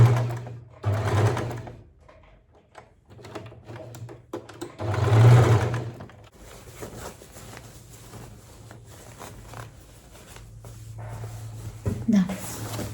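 A sewing machine stitches fabric in short, separate bursts with quieter pauses between runs, and a voice speaks over part of it.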